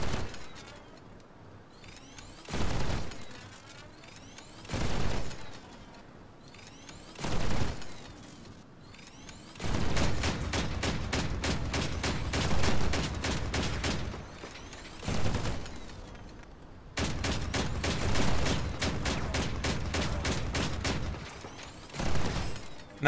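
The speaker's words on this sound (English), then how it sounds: "the plasma rifles aren't continuous fire" Plasma rifles fire in the video game Crossout in clear, loud bursts. Several short separate shots give way to longer rapid runs of discharges, with brief pauses between the volleys.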